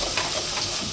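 Coconut paste dropped into a pan of masala frying on the stove, giving a steady, close sizzle with soft stirring scrapes throughout and no voices.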